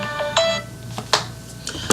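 A mobile phone ringtone rings in short, bright, repeating tonal bursts, a few notes spaced across a couple of seconds over a quiet room background, with no talking.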